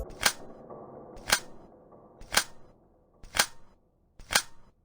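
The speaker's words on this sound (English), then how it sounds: "here is how reloading the shotgun works in absolute full life" Five sharp, evenly spaced mechanical shotgun-reload clacks from the video game Absolute Full Life, each about a second apart, loud and close over a faint low background.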